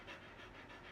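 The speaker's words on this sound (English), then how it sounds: "Can you guys hear my dog?" Monty, a pet dog, pants in a quick even rhythm at close range, three or four breath pulses alone in a quiet room.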